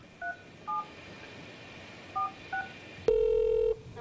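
A telephone is dialed with four short touch-tone beeps spaced unevenly, followed by a louder sustained tone, all clear and close with no speech.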